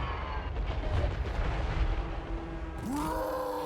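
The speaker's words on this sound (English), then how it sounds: "Hellblaster volley guns are mean" Hellblaster volley guns firing in Total War Warhammer 3, a dense run of booming shots and energy bursts, loud and close, ending in a rising whine.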